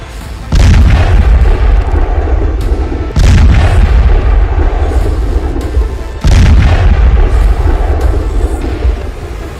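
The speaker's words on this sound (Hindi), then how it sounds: "फिर होता है धमाका।" Three heavy, booming explosions in succession, each a loud sudden blast that rolls on with a long roaring rumble.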